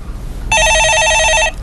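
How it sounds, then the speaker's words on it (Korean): A telephone in a broadcast studio gives one loud, electronic trilling ring lasting about a second, close and alone. "전화입니다."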